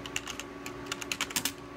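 Typing on a Sun computer keyboard at the OpenBoot firmware prompt, with keyboard click enabled: a quick, uneven run of clicky keystrokes, close and fairly quiet over a steady low electronic hum.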